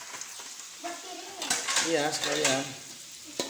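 Jengkol fries in a pan with a moderate sizzle, joined by stirring and clinks of pans and utensils while people talk briefly over it.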